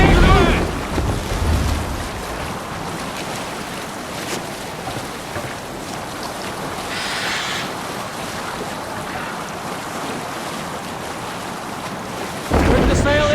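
A sailing ship moves across ocean waves in Assassin's Creed Valhalla, with steady broadband wash of water and wind rushing throughout, and a brief louder surge near the start and again at the end.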